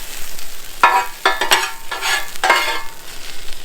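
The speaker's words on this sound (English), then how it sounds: "Better get some bacon going." Bacon fries in a pan at a desert RV campsite, with a low background sizzle broken by several sharp scraping stirs and clatters of a utensil, close and fairly loud.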